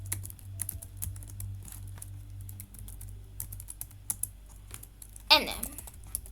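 Code being typed on a computer keyboard: a quick, irregular run of light, close key clicks over a low hum, ending with a louder clack near the end.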